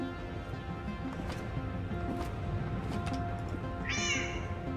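A pet cat named Lux meows once near the end, a short rising call over a steady low background hum.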